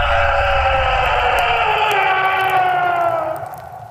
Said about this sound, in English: A death shriek!